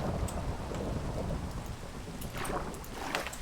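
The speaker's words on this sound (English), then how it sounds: "Maybe he got struck by lightning. I think it's lightning." Thunder and rain in Minecraft, a dense steady downpour with deep low rumbling throughout and a few brighter cracks near the end, no voices.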